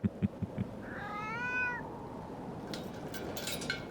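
A cat in Foolish Mortals gives a single wavering meow lasting about a second. It comes through clearly over a steady ambient hiss, after a few soft knocks at the start.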